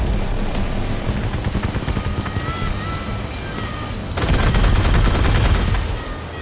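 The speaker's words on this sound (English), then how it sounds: "Basically, I charge it up, aim at something, and then let it go." The Kaiju weapon in the vehicle combat game Crossout lets loose in a dense, continuous roar of rapid gunfire-like blasts with heavy low rumble, swelling louder partway through and keeping up without a break, with no voices.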